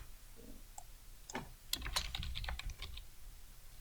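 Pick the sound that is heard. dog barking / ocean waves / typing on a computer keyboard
typing on a computer keyboard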